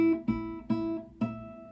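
A guitar harmonic chimes at the 12th fret, a clear bell-like note struck three or four times in slow succession, each ringing briefly before the next, played alone.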